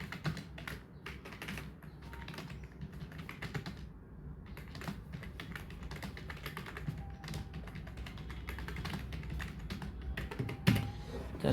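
Fast, continuous typing on a computer keyboard, dense clicking keystrokes with a brief pause partway through and a louder clack near the end, close and fairly quiet.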